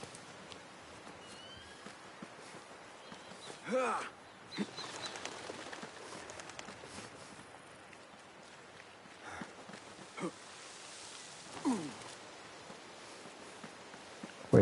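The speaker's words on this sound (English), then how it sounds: "Wait, I thought there were birds on the edge of that ledge." Birds take flight from a ledge in Assassin's Creed Mirage, with two or three brief flurries of flapping wings over a quiet outdoor ambience.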